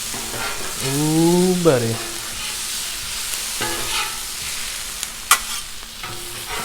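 Serrano peppers and mixed vegetables sizzle steadily on a hot Blackstone griddle while a spatula pushes them around, with a man's brief exclamation and a sharp metallic scrape partway through.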